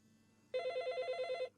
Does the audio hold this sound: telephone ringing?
yes